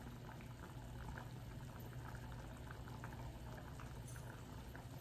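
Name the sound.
pot of water coming to a boil for rice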